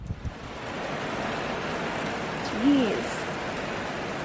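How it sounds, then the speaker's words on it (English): Wind gusts over a boat riding at anchor, a steady broadband roar that swells briefly midway, with a short spoken exclamation near the start. "Here comes the wind."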